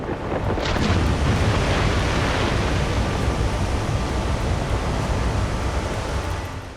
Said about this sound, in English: Unleashing a huge torrent of water.